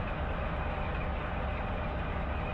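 A freight train rolls past in Run 8 Train Simulator on the Tehachapi line behind a Santa Fe C44-9W, a loud, steady rumble of wheels and cars with no talk.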